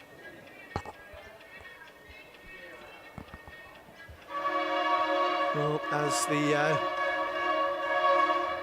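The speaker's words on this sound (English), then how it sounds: "customary train comes past with a very excited driver this afternoon" A train passes near an outdoor lawn bowls green, sounding a steady sustained horn blast that swells loudly over a faint background, while a commentator talks briefly beforehand.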